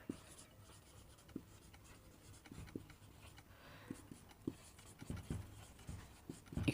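Marker or chalk writing on a board in an organic chemistry class, heard as faint, scratchy strokes and light taps coming in irregular bursts, close by and quiet.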